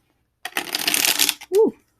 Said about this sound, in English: that was a nice shuffle